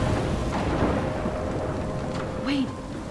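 Thunderstorm in the video game Life Is Strange: steady rain hiss with a low rolling rumble of thunder beneath, continuous and moderately loud, with no voices.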